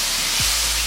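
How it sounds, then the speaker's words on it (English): Bacon fries in hot oil in a pan, cooking until crispy for a broccoli and Stilton quiche. A brief, steady close-up sizzling hiss runs alone at moderate loudness. "I'm going to fry this now in the oil and make it nice and crispy"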